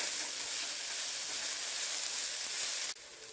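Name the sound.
garlic and onions cooking in a pan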